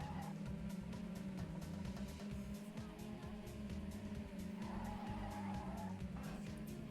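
A slippery race car in a racing video game on a hot lap, engine droning steadily and loudly throughout with tires skidding and squealing through the corners.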